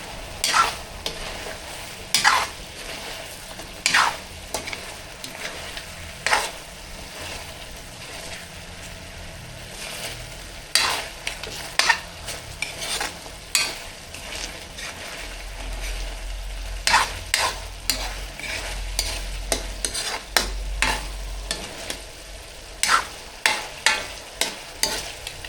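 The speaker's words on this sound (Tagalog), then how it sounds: "Haluin uli natin." Spicy chicken adobo frying in a pan, stirred over and over, with repeated scraping clacks of the utensil over a steady sizzle and a low rumble in the background.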